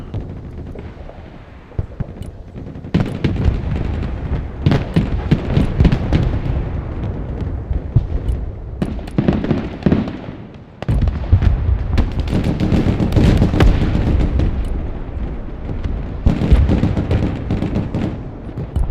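Dense bursts of gunfire and heavy explosions from a Broken Arrow battle roll on almost without pause, loud and close, with a short lull near the middle before the barrage picks up again.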